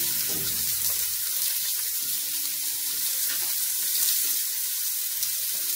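Pork neck chops searing in a hot pan on a kitchen stove, a continuous bright sizzle and crackle, close and steady throughout with faint clinks underneath.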